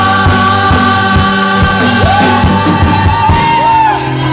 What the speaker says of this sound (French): Poussons des cris de joie à la gloire de Dieu